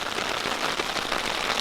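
Steady rain patters on a tarp strung up in a forest, a dense, even hiss of drops close overhead with no wind and no voices.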